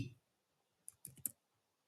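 Keyboard shortcut keys pressed on a computer keyboard in Excel: a quick cluster of four sharp plastic clicks, close and quiet against near silence, without speech.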